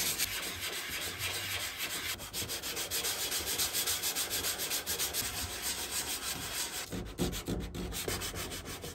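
Hand sanding scrapes steadily and rhythmically across a van's painted body to strip off graffiti, with continuous fast strokes, close and fairly loud, and no talking.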